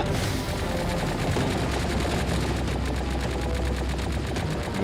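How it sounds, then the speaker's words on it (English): Missiles fire and explode in rapid succession in the video game Tower of Fantasy, a loud, dense barrage of repeated bursts and booms that continues without a break. "No, watch out for the missiles."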